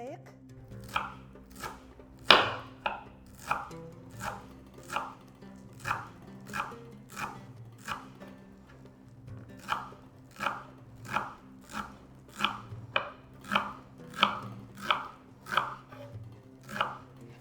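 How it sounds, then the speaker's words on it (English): A knife finely chopping parsley, cilantro and celery leaves for Moroccan harira on a board, steady rhythmic close taps roughly every second, with one louder knock early on and a faint background hum. "Now we will chop the herbs. Try to chop them finely."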